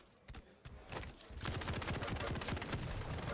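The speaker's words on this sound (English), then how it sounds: "That heavy machine gun on deck." Rapid, sustained heavy machine gun fire from a Quake Champions match, a dense stream of close, loud shots that starts partway in after scattered softer gunfire and runs steadily to the end.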